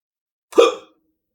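A single short, sharp hiccup, loud and close, standing alone in silence.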